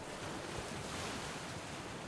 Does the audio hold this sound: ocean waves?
yes